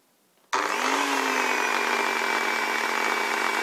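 A power tool blending a vinegar mixture with oil switches on abruptly with a loud, steady motor whine and churning roar that holds constant to the end, with no talking.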